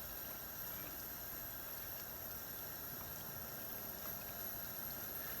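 Plantains sizzling as they fry in a regular pan on a vintage Coleman stove, a steady, faint, even hiss that runs unbroken throughout with no voices.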